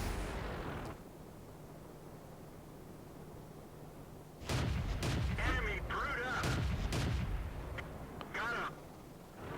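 Heavy tank cannon fire in World of Tanks, cruiser light tanks, with a deep muffled boom early and then a loud cluster of booming blasts and rattling impacts over engine rumble.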